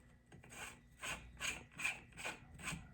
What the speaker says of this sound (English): Now, you're just going to thread the castle nut forward